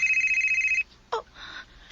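A cellphone ringtone trills in a rapid pulsing electronic pattern, near and clear, then stops abruptly, followed by a short sharp tone and a softer electronic chime.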